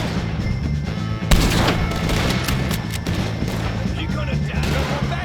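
Dense in-game gunfire from Red Dead Redemption 2 during a shootout with O'Driscoll gang members, a steady clatter of shots running throughout.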